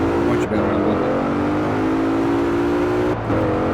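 A 2019 Mercedes AMG GT 63 S four-door coupe fitted with race turbos accelerates hard, its engine note rising steadily through a gear with brief breaks at shifts, loud and close.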